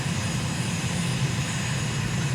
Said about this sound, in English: we trot the plane out of the back and off I go